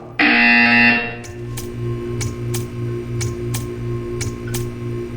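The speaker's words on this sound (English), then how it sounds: "You will hear a buzzer. When you hear the buzzer, stare at the art." A buzzer in the video game Portal 2 sounds loud and steady for about a second, followed by a regular series of sharp ticking clicks over a low pulsing hum.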